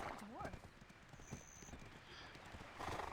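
Horse hooves clip-clop in Black Desert Online, a quiet run of rhythmic hoof falls with a brief whinny near the start, mixed under people talking.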